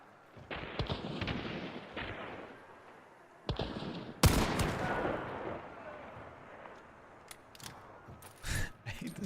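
Video game gunfire crackles in quick bursts and single shots, with one loud blast midway and scattered sharp reports toward the end, over a faint background.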